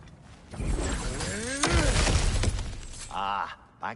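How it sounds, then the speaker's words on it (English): Breakable objects smashed to pieces in God of War Ragnarök, a loud crash followed by tumbling, clattering debris, then a shorter second burst of breaking near the end. "back to smashing through things for fun and profit"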